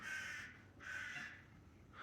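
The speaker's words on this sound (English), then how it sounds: "Man, these crows. There's one crow" A crow caws twice in quick succession, then starts a third call, with harsh rasping calls at moderate distance outdoors and no talking.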